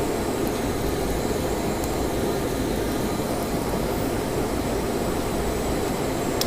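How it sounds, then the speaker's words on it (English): An airliner on approach to Heathrow runway 9 right in the Infinite Flight game gives off a steady, loud, broadband jet engine roar with no change in level throughout. "So now landing at runway 9 right at Heathrow International Airport"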